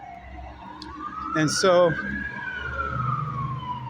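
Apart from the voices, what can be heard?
siren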